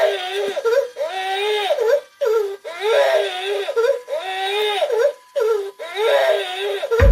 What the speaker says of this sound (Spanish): ¿de dónde rayos venía ese llanto? Adivinaron, del Pipo Gestitos